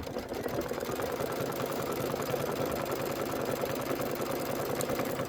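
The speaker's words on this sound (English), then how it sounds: "I'm just going to hit start and let it just stitch in the white" An embroidery sewing machine runs steadily while stitching white thread, its needle chattering in a fast, even mechanical rhythm that stays close and constant throughout with no pauses.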